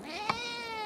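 A hungry house cat gives a single drawn-out meow, close and clear, with a steady tonal wail lasting nearly a second.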